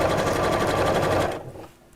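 A domestic sewing machine stitches fabric layered with wadding in a rapid, steady mechanical chatter. It runs loud and close for over a second, then slows and stops.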